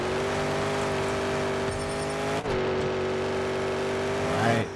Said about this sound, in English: Great drift there. Extreme drift.